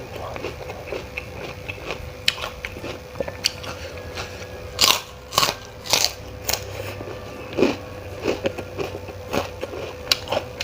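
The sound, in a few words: crunchy bites while eating asinan Betawi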